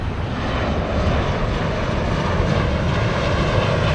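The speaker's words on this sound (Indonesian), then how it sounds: "wow ada pesawat tuh guys" A Garuda Indonesia airplane passes overhead as a loud, steady, broadband engine roar that fills the whole stretch, heard outdoors with no talking.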